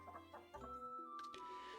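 A chicken in the farming video game Elin gives a few soft, quiet clucks in short bursts over a faint sustained musical tone.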